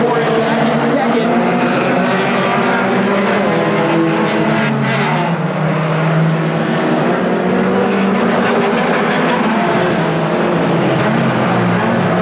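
Race cars roar past continuously on an oval track during a Hornet class race, a dense loud engine drone rising and falling as the pack passes, with a commentator talking over it.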